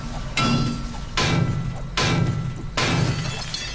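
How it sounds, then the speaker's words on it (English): A hammer breaks down scrap in the survival game 7 Days to Die, producing four loud, crunching, shattering strikes at a steady rhythm about a second apart, each ringing briefly before the next. "let's see what happens if I hammer this"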